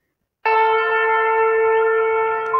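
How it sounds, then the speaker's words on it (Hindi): A conch shell blast plays from an electronic talking Bhagavad Gita book after its conch icon is touched: one steady, sustained horn tone with strong harmonics, starting abruptly and holding for about two seconds with a slight swell at the end. "यहाँ पे आप शंख पे टच करेंगे तो शंख की आवाज़ आपको सुनाई देगी।"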